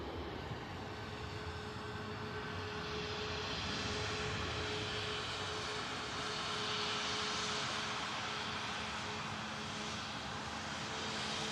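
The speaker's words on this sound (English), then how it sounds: "Climbing out of Manchester Airport." A Boeing 737 MAX 8200 with LEAP engines climbs out of Manchester Airport, a steady broadband engine roar at moderate distance that swells slightly midway and holds throughout, with no talking.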